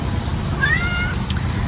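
A neighborhood stray mother cat meows once, a short rising-falling call at moderate distance over a steady background hum, followed by a faint click.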